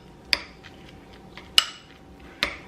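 Crab stuffing with Parmesan cheese is mixed in a bowl, with three sharp clinks of a utensil against the bowl spaced about a second apart over faint, quiet scraping.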